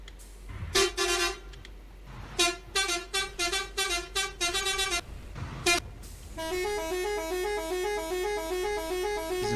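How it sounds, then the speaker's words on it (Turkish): A truck horn in Euro Truck Simulator 2, modded with a Neoplan Cityliner bus, honks loudly and close in short repeated blasts of uneven rhythm, then gives way to a steady warbling tone. "Kamyonlardaki korna buydu."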